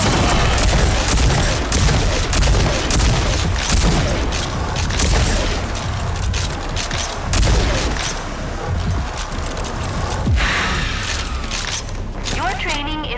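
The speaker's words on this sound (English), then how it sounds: "Use the combat shotgun's overdrive against the simulated enemies." Heavy, continuous combat shotgun overdrive blasts in the video game Rage 2, fired against simulated enemies in a training simulation: loud booming shots and crackling impacts that pile up without a break.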